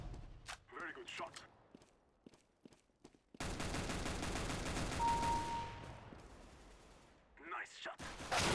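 Burst of rapid automatic gunfire from Counter-Strike: Global Offensive play, a sustained loud volley lasting a few seconds, framed by talk before and after and a few isolated sharper shots early on.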